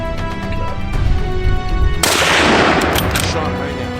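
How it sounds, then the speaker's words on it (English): A rifle shot aimed at a wild boar bursts out loudly, a sharp crack followed by a broad rumbling echo that decays over a couple of seconds after a stretch of music. "Shot rang out."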